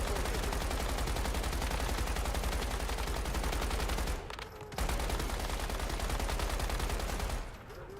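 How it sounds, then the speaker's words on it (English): Gunfire in the survival shooter Once Human: sustained, loud rapid automatic fire in two long bursts with a brief pause between them, no talk. "Who's shooting at me?"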